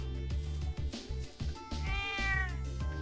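A cat in the video game Trails of Cold Steel II meows loudly and repeatedly, drawn-out cries over background game music.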